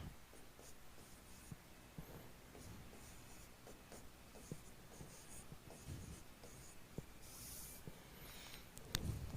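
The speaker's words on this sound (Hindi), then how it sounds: "चौथा सवाल भी एक और लिख देते हैं आप लोगों के लिए" A teacher writing a math question on a classroom board, with faint scratching strokes and taps coming in short irregular bursts over quiet room tone and no talk.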